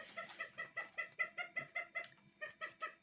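Pet chickens cluck in a steady, rhythmic series of short calls, fairly faint and indoors, with no one speaking.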